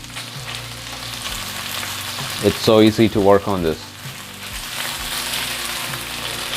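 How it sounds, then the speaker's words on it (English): Steady sizzling of food frying in a Paderno cast iron pan, stirred throughout, with a brief stretch of a voice speaking over the crackle in the middle. "Now stir it well. I could feel that the pan is really smooth when I stir it."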